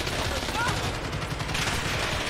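Rapid gunfire crackles in the video game Call of Duty Modern Warfare as a dense, continuous burst of shots under steady game noise, with a voice faintly present in the mix.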